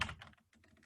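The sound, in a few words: typing on a computer keyboard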